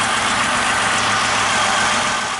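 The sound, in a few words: 2002 Chevrolet Malibu engine running at idle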